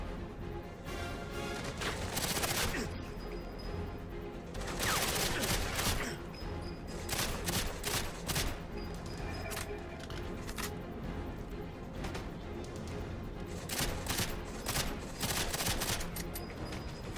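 Near-constant gunfire from guards crackles in the video game GoldenEye 007: Reloaded, loud overlapping volleys and bursts going on throughout.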